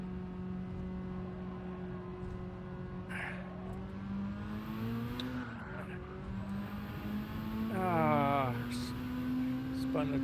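Race car engine in Gran Turismo 7 with tires spinning, a steady engine drone rising in pitch with a brief squeal-like sweep near the end, heard under a talking voice.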